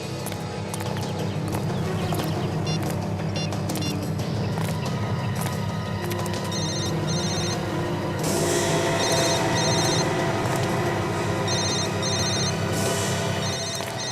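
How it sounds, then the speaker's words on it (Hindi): A mobile phone rings in a repeated electronic ringtone pattern, moderately loud over steady background music and ambient noise, with no speech during the ringing. "विवेक, जरा उसको फोन लगाओ।"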